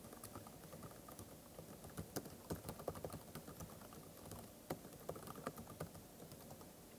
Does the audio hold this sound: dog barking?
no